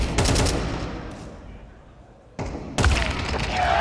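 Rapid AK rifle fire rattles in a Counter-Strike esports match, loud bursts of shots at the start and again near the end, mixed with game noise.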